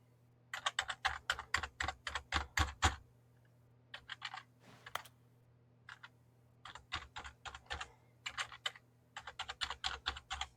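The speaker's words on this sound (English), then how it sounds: "Pressing literally all of the other regular keys that I know don't do anything." Computer keys pressed in fast bursts of crisp clicks, several runs of rapid strokes separated by short pauses, close and clear with no talking, while playing The Stanley Parable Ultra Deluxe.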